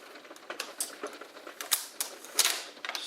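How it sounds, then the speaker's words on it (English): Stickers peeling off an ASRock X570 Aqua motherboard make a series of quick, close ripping and crackling bursts in an irregular rhythm, with no talking. "Let me just peel off"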